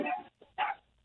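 A little dog gives two short, sharp yappy barks in quick succession, faint and slightly distant, the pair separated by a brief pause.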